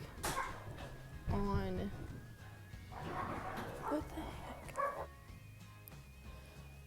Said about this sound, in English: My dogs got into a little bit of a tizzy